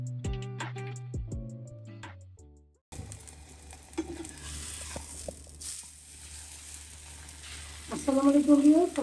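Lati with shrimp fries in a pan with a soft, continuous sizzle, broken by the clatter of utensils and a louder bubbling burst of frying near the end.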